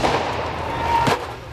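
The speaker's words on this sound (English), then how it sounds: "Protesters clash with police on the streets of Tbilisi. Some throw fireworks at officers" Fireworks thrown at police during a street protest in Tbilisi, a loud steady crowd roar with a sharp burst and thump near the middle, backed by a sustained whistling tone.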